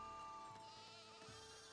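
Sheep bleat faintly on a sheep farm in the city-building game Foundation, with a couple of soft calls rising out of steady, tonal background game music.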